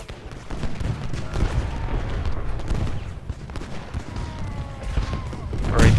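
Musket volleys crackle continuously in a Civil War battle in Ultimate General Gettysburg, a dense rolling rattle of massed gunfire with booming bursts throughout and a louder crash near the end.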